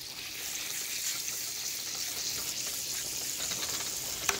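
Butter melts and sizzles in a hot pan, a continuous close hiss with fine crackling that holds steady throughout, one brief sharp pop near the end, no talking.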